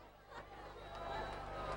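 Sellout crowd at a hardcore wrestling match, a steady roar of chatter and cheering that swells slightly toward the end, dense and continuous with no distinct voices standing out.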